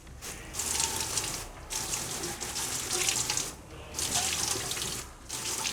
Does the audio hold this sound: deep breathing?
no